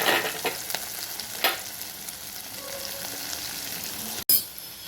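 Ginger and turmeric sizzle and crackle in a hot pan, stirred now and then, with a few brief scraping sounds and a short sharp knock near the end.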